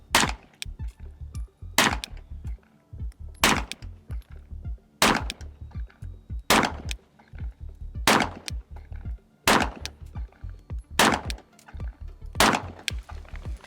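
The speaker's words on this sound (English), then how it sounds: "So I'm gonna do the same amount of rounds, 9 shots, headshots only this time." Nine suppressed gunshots fired through a very small silencer, each a sharp crack with a brief tail, spaced evenly about a second and a half apart, close and loud with no talking.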